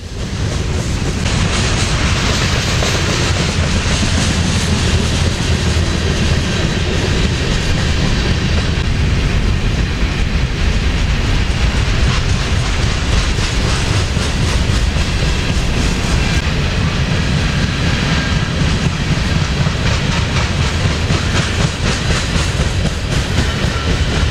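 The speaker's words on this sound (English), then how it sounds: "I don't see grain trains too often in Florida." A grain train rolls past on railroad tracks in Oklahoma City with a loud, steady rumble and rhythmic clickety-clack of wheels close by, continuing without a break and with no talking.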